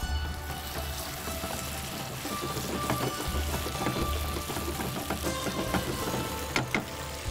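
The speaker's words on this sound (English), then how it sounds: "Pick up the ladle, mix it up, and now let the onions boil." Onions sizzle and fry in a pot for khare masale ka gosht, a steady crackling hiss with small pops and occasional ladle scrapes, close and continuous, with no talking.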